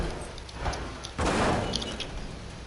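Crate pried open in a video game: a sudden loud wooden crack and thud, preceded by quieter scraping, then a lingering rumble.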